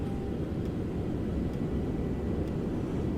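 A simulated airplane rolls for takeoff with a constant low engine drone and rumbling roll noise, steady and unbroken, with a few faint ticks over the hum.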